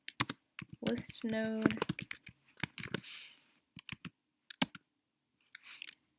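Steady bursts of computer-keyboard typing while writing a simple Python node class, close and crisp, with quick clicking runs broken by short pauses and a voice talking over parts of it.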